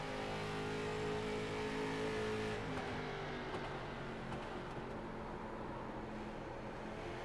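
Onboard the number 1 street stock race car, its engine roars loud and close with steady harmonic drone, pitch sagging slightly partway through as the driver fights the handling.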